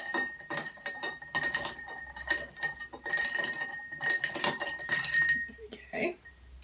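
Ice cubes clink and rattle against a glass mixing vessel as a Blackthorn cocktail is stirred, a steady close-up jangle of ice and spoon with no voices.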